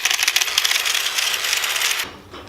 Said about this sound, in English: I'm just gonna have to use the grinding bit to cut the titanium bars.